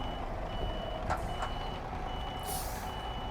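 A truck backs up on a road, its reversing alarm beeping in short repeated tones over steady engine rumble and traffic noise, fairly close.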